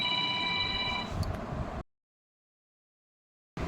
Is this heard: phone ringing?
yes